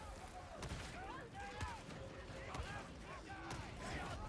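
Gunfire in the sci-fi shooter Darktide, sharp shots cracking repeatedly over a busy battle din while voices talk throughout.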